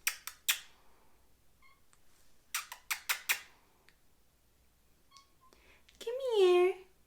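A pet cat meows near the door, asking to be let into a room: a long rising-and-falling meow at the end, after several sharp taps and clicks with quiet gaps between them.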